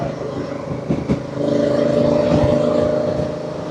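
Honda Africa Twin CRF1000 DCT motorcycle in Sport 2 mode, engine note rising steadily as it accelerates, heard from the rider's position with wind rush and a steady mid-range drone.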